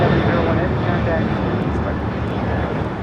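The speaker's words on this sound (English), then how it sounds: "7001 taking off to Mexico City on a 36-year-old 767-200 converted freighter" A 36-year-old Boeing 767-200 converted freighter takes off from LAX. Its jet engines give a loud, steady broadband roar that fades slightly toward the end.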